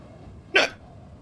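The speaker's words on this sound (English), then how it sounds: "I got hiccups." A single sharp hiccup, loud and close, bursting out once in otherwise quiet surroundings with no talking around it.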